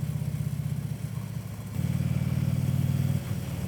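A motorcycle engine runs steadily on a spring day, a close, loud low rumble that dips slightly and then rises again, with no voices over it.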